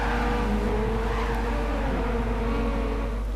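Race cars roar together at the start of a race at Fuji in a racing video game, a steady dense engine drone with no gaps throughout.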